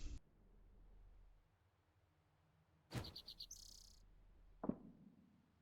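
A bird in a witch-themed video game gives a brief chirp of rapid repeated notes, with a short click before it and a soft thump after it over a faint low background.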